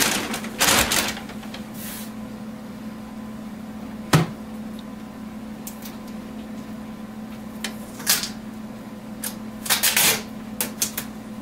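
A long strip of packing tape is pulled off a newly unboxed HP Officejet Pro X551dw printer, giving crackly, ripping bursts of varying length over a low steady hum, close by and without speech.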